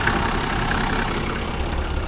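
A Toyota 80 Series engine idles steadily up close, a constant, even rumble with no breaks and no talk.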